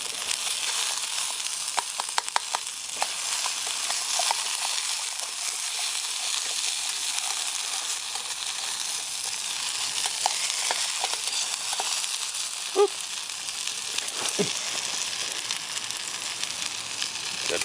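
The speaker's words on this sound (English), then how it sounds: "Let's get some more bacon grease in there, because fat is flavor." Bacon grease sizzling and frying in a pan outdoors at a field meal, a steady broad hiss throughout with occasional pops and clicks.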